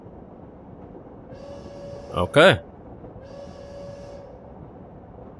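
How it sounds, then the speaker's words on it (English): A train pulls into a station in the Heart of the Woods video game, a faint rumble with a brief bell-like chime and a short two-note whistle blast at the centre; a voice speaks once quietly. "We step off the train and into another world."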